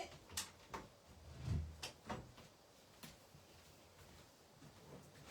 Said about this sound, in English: Oh, I forgot to shut the door.